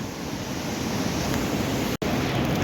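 The swollen Beas river rushes past in flood after landslides in Himachal, a loud, continuous roar of churning water close by, steady throughout with one brief dropout.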